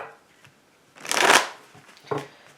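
Shuffling of a Law of Attraction card deck, a quick riffle of cards in one dense burst of about half a second, followed by a shorter, fainter flutter, close and clear in a quiet room.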